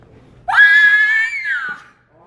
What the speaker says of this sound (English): Classic, I guess discovering a body kind of scream.